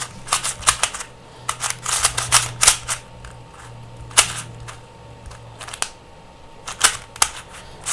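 A puzzle cube is turned and clicked over and over, giving sharp, close plastic clicks in irregular bursts with short pauses between, over a faint low hum.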